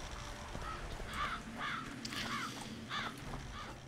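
Harpies in The Witcher 2 give a string of harsh, crow-like caws, several separate calls spaced across a few seconds over a steady game background.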